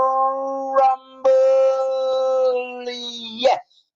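Ali the dog gives two drawn-out, close, loud howls with a short break between them, ending in a brief yip.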